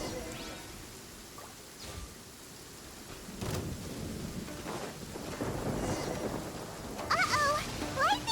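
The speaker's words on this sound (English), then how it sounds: "Uh-oh! Lightning storm!" Rain and rumbling thunder from a lightning storm in the video game Genshin Impact, a steady wash of rainfall with heavy thunder swells, while faint character voices chirp briefly near the end.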